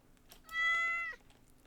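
A cat in the video game Stardew Valley lets out a single short, clear meow when it is petted, sounding alone against a quiet background.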